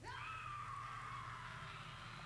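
A deformed plasmid-spliced creature in Bioshock lets out a sustained, wavering scream lasting a couple of seconds, loud and steady over a low in-game hum, with no talking.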